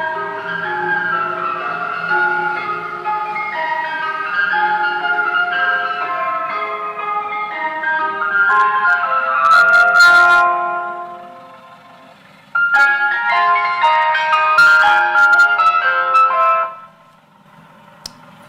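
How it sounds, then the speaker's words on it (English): An ice cream van jingle plays back from a video as a bright, tinkling electronic melody. It repeats its tune, drops out briefly midway, then resumes loud and clear before cutting off. "We all know that track. It's on every ice cream van."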